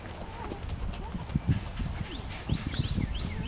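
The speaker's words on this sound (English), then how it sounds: "go ahead and turn around and ask her to trot" A horse trots during a dressage training session, its hooves clip-clopping in a steady rhythm at moderate distance, with faint voices in the background.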